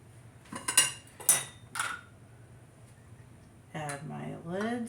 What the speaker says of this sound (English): Add my lids. And add my rings.